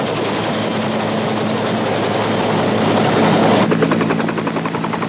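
Military helicopter rotor and engine roar during marine force recon casting training over the sea, a loud, steady, dense wash of noise with rapid blade chop, continuous throughout.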